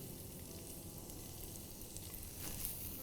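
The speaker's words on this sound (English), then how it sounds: "So, now this oil is hot. To this we will add in garlic" Garlic hitting a little hot oil in a non-stick pan gives a steady close sizzle and crackle that swells slightly near the end, with no voices.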